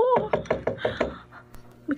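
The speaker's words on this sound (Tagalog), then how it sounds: "May kumakatok. Sino kaya to?" Knocking on a door: about six evenly spaced raps in quick succession, fairly close and crisp, followed by a quieter pause and a faint sound at the end.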